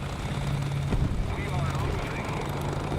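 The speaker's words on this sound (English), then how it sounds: "I got a drone above me" A steady low whirring hum like a small drone or rotor craft hovering overhead in a video game, loud and continuous for a few seconds under game noise.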